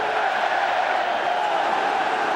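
A football stadium crowd cheers during a Manchester United match, a dense, continuous roar of many voices that stays loud and even for the whole stretch.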